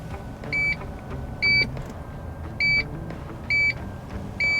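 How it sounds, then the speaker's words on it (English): Repeated electronic chime from a 2024 Toyota Tundra Limited CrewMax while its power seat is adjusted, five short bright beeps spaced about a second apart over a low steady cabin hum. "Listen to the sound of me just adjusting my seat."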